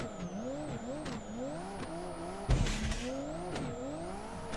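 Race car engine in the Live For Speed racing game, revving and dropping repeatedly as the throttle is squeezed on and off, with a loud burst of tire noise midway, steady and close with no talk.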